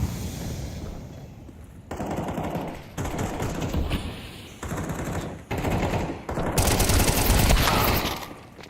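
Rapid rifle fire from a competitive Counter-Strike match crackles in dense bursts broken by brief gaps, loud and close, with several firefights overlapping in a steady, intense barrage.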